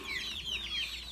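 Chickens cluck softly in a coop, a run of short repeated calls at moderate distance with no talk.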